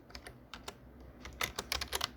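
Quick, light keystrokes on a computer keyboard tap in an uneven burst, close and fairly soft, quickening toward the end with no talking.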